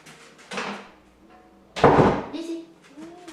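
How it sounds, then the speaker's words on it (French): A door is shut in a home, a short muffled shuffle followed by a louder thud as it closes; a voice speaks briefly before and after. "On va fermer la porte."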